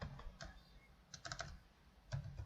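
Computer keyboard being typed on, quiet close key clicks in short uneven bursts with small pauses between.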